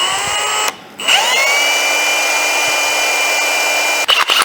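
Electric drill fitted with a 13/64 bit bores a hole, a steady high-pitched whine running for several seconds after a brief pause, close and loud, then cutting off and stuttering at the end.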